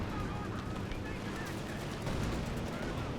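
Rapid machine gun fire from an MG in Company of Heroes 2 suppressing Obersoldaten infantry, crackling densely and steadily throughout amid a busy battlefield wash of other weapon noise.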